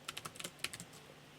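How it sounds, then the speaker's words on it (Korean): Quick keystrokes on a computer keyboard, about a dozen light clicks in a rapid, uneven burst, close and clear over a quiet room. "제가 좀 타이핑이 빠르다라고 생각을 하시면 멈춰놨다가 입력하고 들어주세요"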